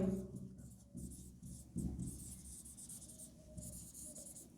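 A pen writes on paper while a nursing care plan is drawn up, giving soft, continuous scratchy strokes in short bursts, close and faint, with a low voice murmuring underneath.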